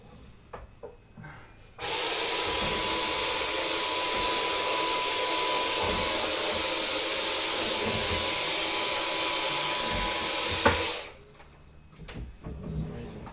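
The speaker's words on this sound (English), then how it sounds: "Might need a shorter hoover." A hoover runs steadily for about nine seconds during a desk remodel and tidy-up, switching on abruptly and cutting off cleanly, loud and close with a bright whine, with quiet room noise before and after.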